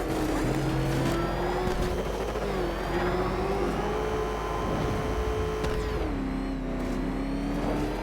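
The Batmobile in Batman Arkham Knight drives with a constant loud engine drone whose pitch rises and falls, shifting sharply once, with faint tire noise underneath.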